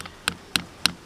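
Small nails tapped gently into a wooden pigeon cage with a hammer, three crisp, evenly spaced knocks in quick succession, close and clear with no talking.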